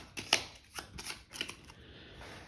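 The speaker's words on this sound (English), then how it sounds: "the first player is going to grab their cards and they're going to shuffle them" A deck of game cards is shuffled by hand, with a few quick riffling bursts and soft flicks, close and fairly quiet, in a quiet room with no talk.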